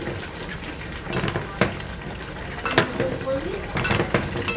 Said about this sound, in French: j'avais coupé mes oignons en petits morceaux. Et on mélange.